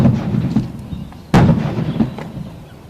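Ceremonial gunfire at a platoon march-out parade, fired on command as one sharp, loud report that cuts through the outdoor background and then fades.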